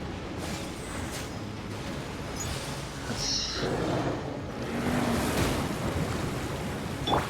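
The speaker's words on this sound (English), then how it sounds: "some water falling" Steady rushing water falling in the Genshin Impact video game, a broad continuous wash that swells slightly midway, with faint wind-like noise and no other distinct sounds.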